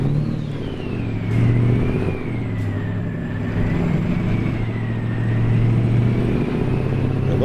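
A truck in American Truck Simulator rolling down the road, a steady mid-pitched engine drone with a whining gear tone that rises and falls as it eases on and off the throttle, constant and close throughout, no talking.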